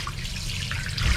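Water streams from a high-end faucet inside a 2010 Prevost Parliament motorhome, a soft, steady running trickle heard close and fairly quiet.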